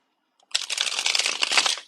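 Tarot or reading cards being shuffled by hand, a dense close riffling flutter that starts abruptly after a short silence and runs continuously for over a second, loud and alone.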